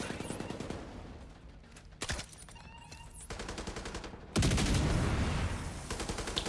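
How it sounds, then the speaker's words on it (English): Dense gunfire from a hardcore-mode shooter video game, with repeated bursts and single shots, a loud sustained volley near the end, and faint voices mixed in. "Why is he shooting towards my grenade?"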